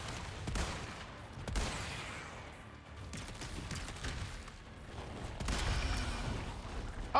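Gunfire from a Resident Evil 4 video game as weapons are shot from the hip: several sharp reports in an uneven rhythm, the loudest near the start and toward the end, over steady game background noise.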